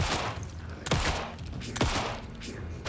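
Gunfire in the survival horror game Alan Wake 2: two sharp, loud shots about a second apart, each with a booming tail over a dark ambient game soundscape.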